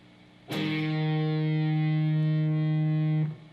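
A single distorted electric guitar note rings from the second fret of the D string after a downward strum in a blues lesson, loud and steady for about three seconds before being cut off.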